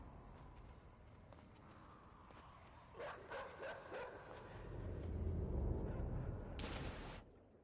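Dog barks in the puzzle-platformer game Inside: a few short, evenly spaced yaps at mid distance over a dark ambient drone and low rumble, ending in a brief burst of noise.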